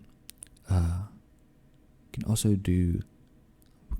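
A few soft, sharp computer keyboard key presses while building in the Planet Coaster game, quiet single clicks near the start and end with a man's soft-spoken talk in between.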